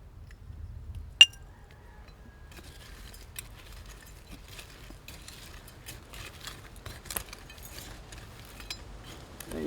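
Old glass medicine bottles, including a Phillips Milk of Magnesia bottle, clink faintly while being dug from soft earth in a Hawaiian rainforest, with one sharp clink near the start and scattered soft knocks and scrapes after.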